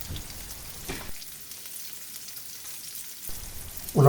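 Hot oil and butter sizzle in a pan before chicken goes in, a soft frying hiss that drops away for a couple of seconds and returns with a louder burst at the end.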